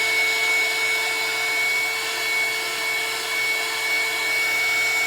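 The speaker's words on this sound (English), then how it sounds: "It's important when you're using your heat gun." A heat gun blows steadily at close range while drying a freshly painted vinyl doll torso, producing a continuous airy whoosh with a faint mechanical hum and no pauses.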